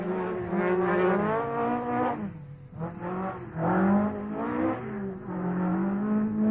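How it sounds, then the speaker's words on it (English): A works Ford Escort RS rally car is driven hard. Its engine howls and rises and falls in pitch through repeated gear changes, close and fairly loud, with no voices. "And this is the champion style in the works Ford Escort RS."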